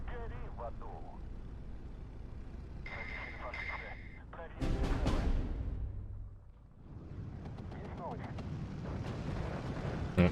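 Heavy artillery fire in the Steel Division 2 strategy game, set in a Soviet campaign at Iasi. A deep, booming barrage swells in the middle and then rumbles away, with mixed battlefield noise before and after.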